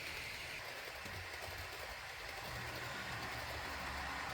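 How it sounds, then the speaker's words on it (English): A model Class 43 train running past on a layout, a continuous rumbling, clattering roll at moderate distance, steady throughout with no voices. "There's the train just going past"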